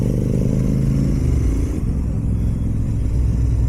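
Royal Enfield GT 650 motorcycle riding at night, its twin engine giving a loud, steady close rumble with a shift in pitch about halfway through as the rider changes gear or throttle.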